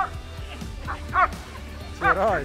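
Trained protection dogs bark and yip in several sharp bursts, a pair of loud barks near the end, with people talking in between.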